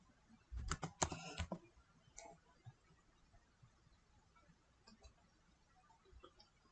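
Someone types a search into a computer keyboard: a quick, dense run of clicking keystrokes comes first, then scattered, softer taps over a quiet room.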